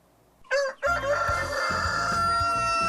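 A rooster crows loudly and close by from a backyard chicken coop, one long cock-a-doodle-doo that fades into faint clucking and farmyard noise.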